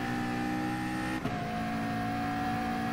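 Group 3 race car engine in Gran Turismo Sport holding a steady, droning tone on the long climb at Autodromo de Interlagos, with a quick dip and shift partway through, no talk.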